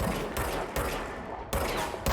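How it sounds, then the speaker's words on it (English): Gunfire in the video game Control: several loud, close bursts of shots at roughly regular intervals over a steady background hum, with no talking. "it's been a while since I've fired a gun in a game"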